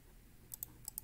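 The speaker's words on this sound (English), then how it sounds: "And I'll just right click on this" Two quick pairs of sharp computer mouse clicks, faint and close, with a brief pause between pairs against a quiet background.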